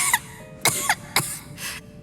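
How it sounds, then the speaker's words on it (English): A character in the video game Genshin Impact coughs several times in short, separate bursts, close and clear with brief pauses between. "How long have you had that cough, Tonya?"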